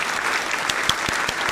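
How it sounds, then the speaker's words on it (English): Steady crowd applause, dense and continuous, with a few sharper individual claps standing out near the front of the sound. "Proud applause."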